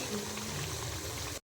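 Boiled-egg pakoras frying in hot oil: a steady, dense sizzle and bubbling fills the short stretch at moderate level, then cuts off abruptly into silence.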